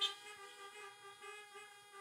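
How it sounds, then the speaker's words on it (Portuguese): Car horns sounding at a drive-in church service, a sustained harmonic honk that is faint and distant, holding steady with slight swells. "Dá uma buzinada, dá um sinal de luz."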